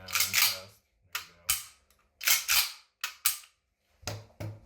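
Repeated sharp snapping shots from an airsoft gun fitted with an ST50 trip kit, fired with the trigger held down, come in bursts of loud, close cracks with short silent gaps between them.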